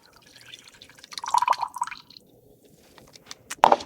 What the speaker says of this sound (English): And then you pour it into a glass.